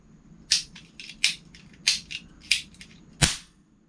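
A toy cap gun fires five sharp, loud snapping bangs at a fairly steady pace, each with a short crackling tail, over low background rumble.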